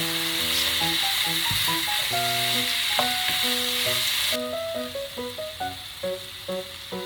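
Pork in a sugary gochujang marinade sizzles and hisses in a hot pan, a continuous frying crackle with a tonal musical melody playing over it.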